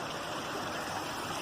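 A creek runs beside a small morel mushroom patch, giving a steady, close, broadband rush of moving water with no talk and no breaks.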